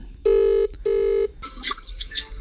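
Two long electronic telephone ring bursts, steady and loud, pulse one after another during a call to a dad, followed by faint muffled voice-like sounds on the line.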